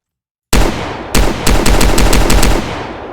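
Rapid bursts of loud pistol gunfire in a Roblox game, the silencer leaving the sound unchanged: one sharp shot, a pause, then a quick run of evenly spaced shots with lingering reverberant tails.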